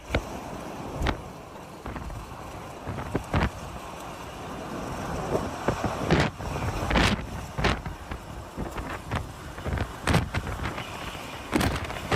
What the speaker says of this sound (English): That's a pretty strong wind gust